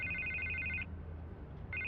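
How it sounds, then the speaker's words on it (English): A telephone rings in Batman: The Telltale Series, two bright electronic trills close and clear, separated by a short gap, with no talk over them. "I can't get the phone to stop ringing."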